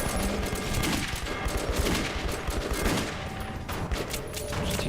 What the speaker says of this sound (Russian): Два стреляют в упор